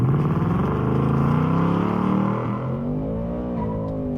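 A 2025 Ford Mustang GT launches hard at a drag strip's start lights with warmed rear tires, its engine roaring loud and close as revs climb through the run before steadying to a sustained drone.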